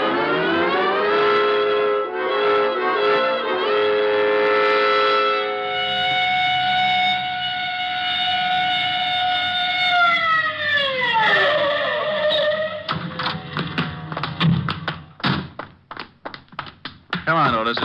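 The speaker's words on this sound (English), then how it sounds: "All right, Otis, you can use the siren." A car siren sound effect in a 1949 radio detective drama wails steadily, then sweeps downward as it winds off, followed by clattering bumps; voices from the drama overlap parts of it.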